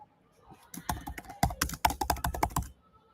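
Fingers typing on a computer keyboard, a quick irregular run of close, crisp key clicks that speeds into a dense burst, then stops.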